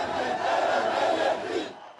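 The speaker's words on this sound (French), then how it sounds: "La foule laisse éclater sa joie" A large crowd at the 2018 Armenian protests roars and cheers in a dense, sustained wall of voices that fades out toward the end.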